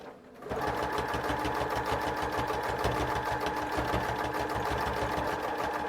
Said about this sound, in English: And I back stitched.